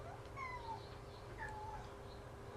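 A pet cat gives two or three faint meows over a steady background hum, heard from some distance and with no talking.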